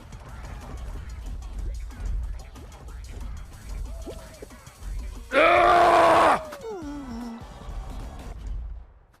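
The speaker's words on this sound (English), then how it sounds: "That was like a fucking Joel scream right there" A loud, high-pitched scream bursts out for about a second during a Fall Guys: Ultimate Knockout game, rising above quieter background game sounds and then trailing off into a falling groan.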